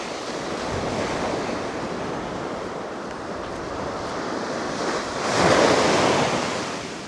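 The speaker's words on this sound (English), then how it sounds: "This tide's on its way in." Foamy white surf rolls steadily onto a North Sea beach near Anderby Creek, a continuous broad wash with wind noise on the microphone, swelling into a louder breaking wave near the end.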